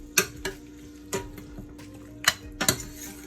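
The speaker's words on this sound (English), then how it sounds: "So now our meat is in the pot. Let's go ahead and just give it a toss around." Chunks of Jamaican-style stew pork tossed around in a pot, giving several sharp clacks and scrapes at an uneven pace, close and fairly quiet, with no talking.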